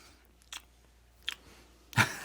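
A person on a studio panel makes lip-smacking noises, three short, wet mouth clicks spaced apart, close to the microphone. The last smack is the loudest, and nobody speaks.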